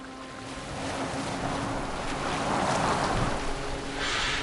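A boat moves over water in Assassin's Creed Valhalla, with a rolling wash of waves and wind that swells and fades across a few seconds, moderately loud and free of talk.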